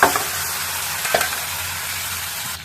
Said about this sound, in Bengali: এই যে চিনিটা লাল হয়ে গেছে, এবার আমি কি করবো, আলুগুলো ফেলে দিয়ে